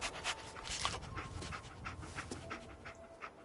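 Dogmeat, the companion dog in the Fallout 4 game, pants in quick, steady breaths that carry on throughout, close and soft, with no talking.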